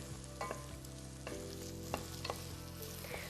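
Onion and garlic fry in olive oil in a pot, a continuous low sizzle broken by a few sharp scrapes and taps of a stirring spoon, close and fairly quiet, no voices.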